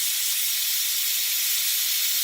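Steam hisses from a pressure cooker being depressurized, a loud steady high-pitched rush of escaping vapor that holds constant throughout, with no talking.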